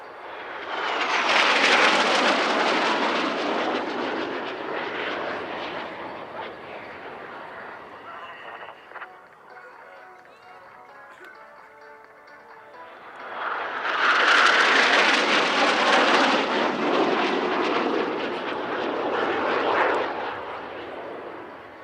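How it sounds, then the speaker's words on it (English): Two Patrouille Suisse F-5 Tiger jets flying the mirror manoeuvre at an airshow roar past in two loud swelling passes separated by a quieter lull, with faint commentary in the background. "Another classic Patrouille Suisse manoeuvre from Tigers 5 and 6,"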